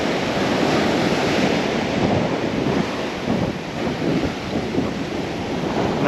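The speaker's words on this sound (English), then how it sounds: "there's a few breakers further out because obviously the tide is now running off, so there's a bit of tide, a bit of wave movement going over that sandbank out there" Steady roar of breakers rolling over a sandbank out at sea as the tide runs off, a dense continuous wash of surf with some wind, loud and unbroken with no voices.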